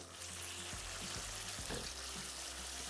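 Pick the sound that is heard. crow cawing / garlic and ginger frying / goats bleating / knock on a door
garlic and ginger frying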